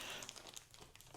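A dirty plastic parcel bag, already opened several times, crinkles and rustles close up in a brief burst of handling.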